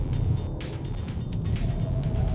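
A Peugeot 308 GT Line accelerates on a track, its engine a steady, loud drone heard from inside the cabin with constant road and wind rumble.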